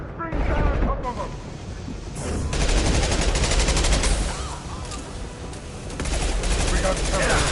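Rapid bursts of automatic gunfire and heavy shots from the video game Mass Effect 2 fill a loud, dense battle soundscape, with a voice shouting over the continuous firing.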